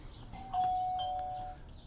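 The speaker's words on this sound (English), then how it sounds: "So we heard the chime inside." Skybell HD smart doorbell chime ringing indoors: a single sustained electronic tone lasting about a second, moderately loud over a faint room background.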